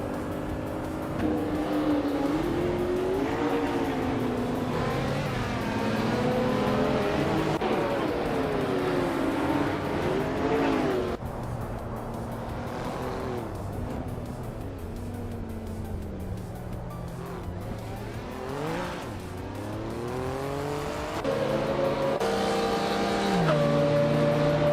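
Race cars in a racing video game, a 2019 SSC Toyota among them, with engines revving and shifting pitch continuously, close and loud, with a possible faint voice underneath.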